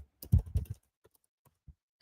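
Quick bursts of keystrokes on a computer keyboard, a short flurry of close clicks followed by a few sparse, faint taps in a quiet room.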